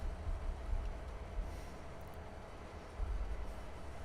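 A train in Farming Simulator 22 runs in a low, continuous rumble with faint rolling rail noise that stays fairly quiet and steady throughout.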